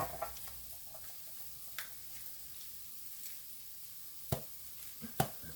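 Garlic toasting in a pan gives a steady low sizzle close by, with a few sharp ticks and clicks of utensils near the end and no talk.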